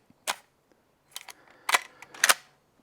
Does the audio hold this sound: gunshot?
yes